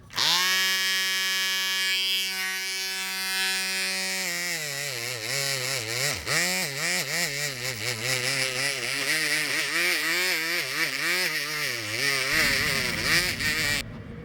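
A die-cast Tomica Nissan Fairlady Z 2008 coupe model body being polished with a small rotary tool, a loud steady whine that dips and wavers in pitch as the bit presses on the metal, running continuously throughout.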